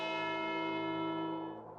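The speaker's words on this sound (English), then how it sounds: "the grandfather clock downstairs starting to chime again" A single deep, resonant bell-like chime from a grandfather clock rings out and slowly decays, sustained and fairly faint in a quiet house.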